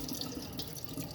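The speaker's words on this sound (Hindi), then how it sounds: "इसी तरह हम टमाटर को भी धो देंगे।" Tap water running steadily into a sink as a warm tomato is rinsed under it, a brief soft gush of flowing water heard alone.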